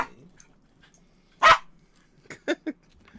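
A dog named Vinny lets out one sharp bark nearby, followed after a pause by a few shorter, quicker barks and yips in a quiet room.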